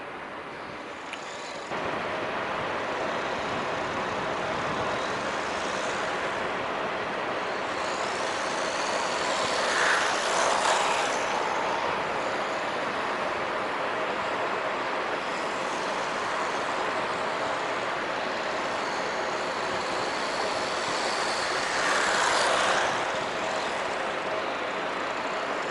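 A WLToys 144001 RC car races fast and drifts, its steady high electric motor whine and rushing tyre noise holding loud and continuous with a couple of swells as it passes near.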